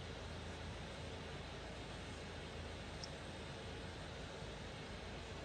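Engine of the Indonesian presidential aircraft in a flight simulator game: a faint, steady droning roar that holds unchanged throughout, with no voices.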